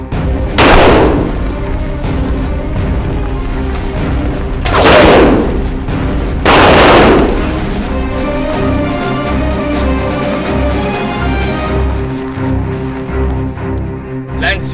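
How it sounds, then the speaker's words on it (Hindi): Gunfire rings out in a Hindi-dubbed action movie, with three loud, heavy blasts standing out over a constant rumbling background score and scattered smaller bangs. "अरे फायरिंग हो रही है, जल्दी आओ।"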